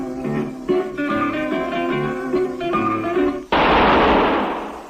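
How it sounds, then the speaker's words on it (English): A single sharp gunshot sound effect in a 1951 radio drama of The Lives of Harry Lime cuts off zither music and rings out loud, with a broad noisy tail that slowly fades. "That was the shot that killed Harry Lime."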